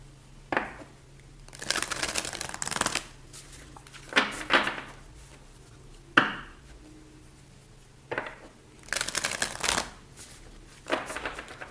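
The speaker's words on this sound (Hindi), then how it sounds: "कुछ और कार्ड्स लूँगी मैं" Tarot cards are shuffled and drawn in several separate bursts of crisp riffling and flicking, close and fairly loud, with quiet pauses between them and no talk.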